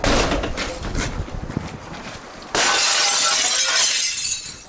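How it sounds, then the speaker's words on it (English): Glass in a door is smashed during a break-in attempt: loud crashing and shattering bursts, then a sudden, sustained bright crunch of breaking glass, close and with no speech. "just smashing the glass on the door and kicking it"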